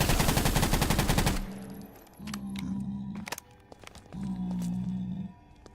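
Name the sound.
gunfire shooting at creatures in a video game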